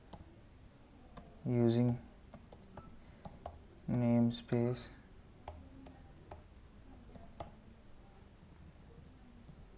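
Computer keyboard keys clicked while C++ code is being typed, a scatter of light, irregular taps running under a man's speech.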